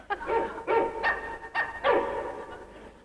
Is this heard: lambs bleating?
no